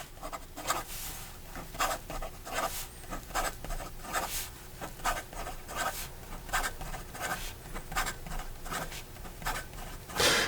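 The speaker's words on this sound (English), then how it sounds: "In regard to some fast writing on the soft setting" A Pilot Justus 95 fountain pen with its nib on the soft setting scratches quickly across paper in rapid, rhythmic strokes, close and quiet, with a soft continuous rustle between the strokes.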